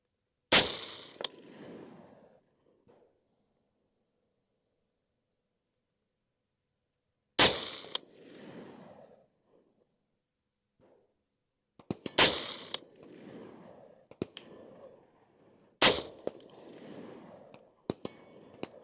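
Four sharp, loud gunshots from a Colt CAR-A3 HBAR Elite rifle, spaced several seconds apart, each followed by a short echoing tail and quiet gaps between.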